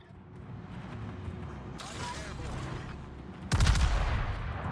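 Naval gunfire from a warship in the World of Warships game, with a sharp volley near the middle and a heavier, booming salvo toward the end over a steady engine-like rumble.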